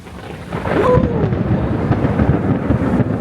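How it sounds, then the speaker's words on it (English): Loud rolling thunder from a big lightning bolt during a thunderstorm, a sudden close crack swelling into a long rumbling roar with rain hiss beneath. "That was a huge big lightning bolt"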